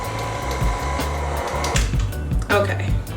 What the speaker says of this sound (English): we're gonna take this off the mixer